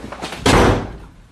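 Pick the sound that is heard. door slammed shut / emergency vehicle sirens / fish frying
door slammed shut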